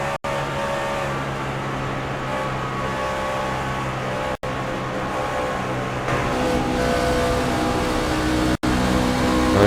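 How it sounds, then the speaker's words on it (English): Powerful Chevy Silverado and Toyota Tundra race trucks roaring through corners, a loud, steady engine drone with drivers backing off the throttle, swelling louder near the end. "you will hear these drivers backing it out as they do get in and out of these corners. These Chevy Silverados and Toyota Tundras, extremely powerful machines."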